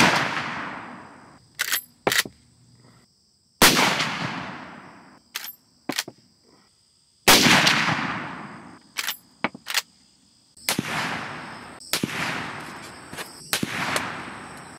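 A 30-30 Winchester rifle fires Remington Core-Lokt 170-grain hollow-point rounds into ballistics gel, several loud sharp reports spaced a few seconds apart, each with a short decaying tail and some smaller clicks between shots.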